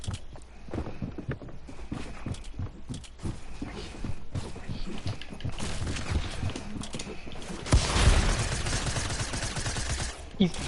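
Gunfire in a video game, scattered shots popping through a steady background bed with a denser, louder burst near the end, while a player talks over it.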